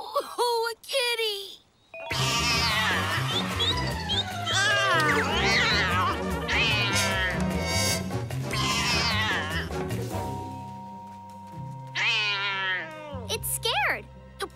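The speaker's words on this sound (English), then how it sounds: "Oh, a kitty!" Cartoon kitten meowing in a children's animated show, several high, wavering meows over a busy music score, with a brief child-like voice at the start.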